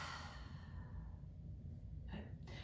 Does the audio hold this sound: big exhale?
yes